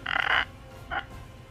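A human voice imitates a croaking toad with two raspy, rattling croaks, a longer one followed by a short one, close and fairly loud.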